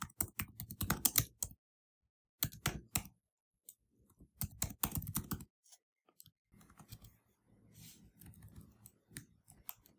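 Bursts of typing on a computer keyboard, quick clusters of key clicks separated by short pauses, fairly close and alone with no voices.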